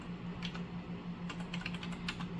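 Fast, light keystrokes on a computer keyboard as a project name is typed, a close run of clicks in quick irregular bursts over a steady low hum, with no voices.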